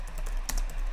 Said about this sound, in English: I'm typing weirdly here because the keyboard is super far away